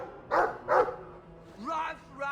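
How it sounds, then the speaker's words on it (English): A dog in the video game Dragon Age 2 gives two quick, close barks, followed by a brief stretch of voiced, vocal sound near the end. "I like the doggy."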